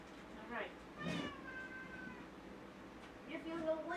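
A pet cat meows several times indoors, short wavering cries at moderate volume, with a person speaking nearby.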